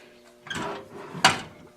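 Drawer on a lathe tool cabinet holding spanners, a couple of soft sliding bumps then one sharper close, fairly near and alone.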